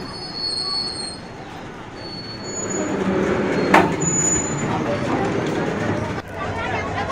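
A freight train at a railway station in Jharkhand screeches with long metallic wheel squeal and rolling rumble, loud and close, with a sharp clank midway and crowd voices underneath.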